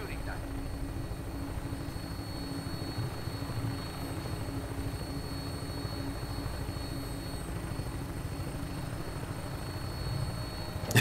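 A vertibird helicopter in Fallout 4 gives a steady, droning rotor and engine hum that stays even and continuous, with no talk over it.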